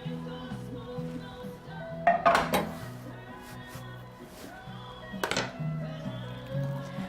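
Utensils scrape and clatter against a dish as chopped leftovers are folded into a mixture, two clusters of clinks and knocks over a steady musical background.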